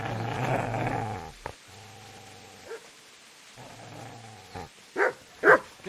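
A dog growls and then barks in the medieval video game Kingdom Come Deliverance, starting with a low rumbling growl followed by several sharp barks close up toward the end.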